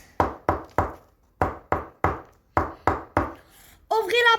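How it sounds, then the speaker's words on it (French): Nine sharp knocks on a door, spaced in uneven groups and close to the ear, end in a short high voice that follows the last knock. "Le loup déguisé s'approcha à la maison et frappa à la porte."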